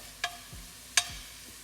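Garlic and potatoes fry in a pan for spicy Lebanese batata harra, a soft steady sizzle punctuated by two sharp scraping clicks of a utensil stirring against the pan, close and quiet.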